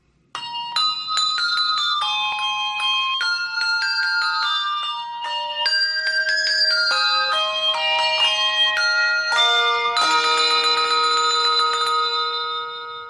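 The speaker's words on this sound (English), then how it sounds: "next one is the Hershey Kisses Christmas Bell commercial" Small handbells from the 1989 Hershey's Kisses Christmas commercial chime a melody, bright tuned notes stepping one after another in a clear rhythmic tune and swelling into a fuller ringing chord toward the end, with no voices.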